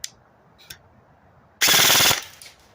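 A Cutter Badger airsoft gun fires a short full-auto burst, a rapid, loud, buzzing chatter of shots lasting about half a second, preceded by a couple of faint clicks.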